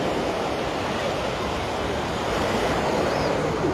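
Low, rolling surf at Waikiki, Hawaii, heard as a continuous steady roar of water and wind, fairly loud and unbroken, with no voices.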